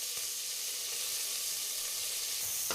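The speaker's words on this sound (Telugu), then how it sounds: "ఇప్పుడైతే గోల్డెన్ బ్రౌన్ కలర్ వచ్చే వరకు అయితే వేయించుకుందాం" Onions and curry leaves sizzle with mustard seeds in hot oil, a steady broadband frying hiss held close and even throughout, with a faint clink near the end.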